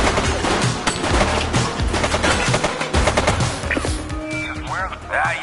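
Gunfire in the police video game The Precinct, a woman suspect shooting in rapid crackling bursts amid shouting voices, close and busy, thinning out toward the end.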